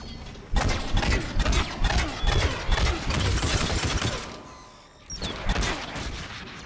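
Dense bursts of rapid gunfire from enemies in Mass Effect 3 as they attack a decoy, loud and sustained with overlapping shots, then a brief lull before another volley.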